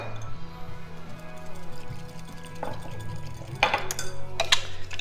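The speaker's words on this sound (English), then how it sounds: "We're going to get a bowl so we can kind of mix it all together." A bowl being fetched in a home kitchen to mix salad dressing, with a few light clinks and knocks of dishware, including a couple of bright ringing taps near the end over a low background hum.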